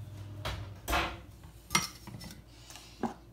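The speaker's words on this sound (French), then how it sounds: "Je retire tous les plats que j'ai à l'intérieur de mon four." Baking dishes being pulled out of a home oven, with several sharp clinks and clatters of dishes and metal racks spaced irregularly, close by and otherwise quiet.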